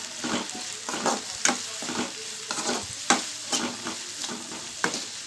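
Dried fish curry ingredients with turmeric frying in a pan, a spatula scraping and stirring in repeated strokes over a soft sizzle, close and fairly loud, no talking.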